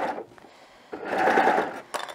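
Sewing machine stitching the seams of a bear hug wrap romper, in two close bursts of steady mechanical whirring with a short pause between them and a brief restart at the end.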